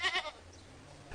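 Goats bleat twice in quick succession, close and clear, before fading into a quiet background hum; there is no talking.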